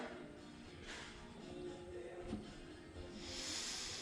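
Gas hissing steadily from a camp stove valve cracked barely open, a faint continuous breathy rush that swells a little louder near the end.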